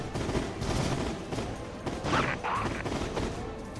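Heavy, dense gunfire in the shooter Heavy Fire: Shattered Spear, a continuous loud stream of bullets with crashing impacts mixed in, close and unbroken throughout.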